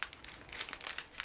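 Crinkly stickers handled at a workbench, a brief busy burst of plastic crackling and rustling up close, continuous and fairly quiet.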